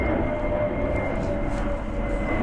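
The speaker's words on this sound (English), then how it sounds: "Let's wait for the plane." Steady broadband roar of a propeller or jet aircraft passing over a bay in the south of France, loud and continuous throughout with no talking.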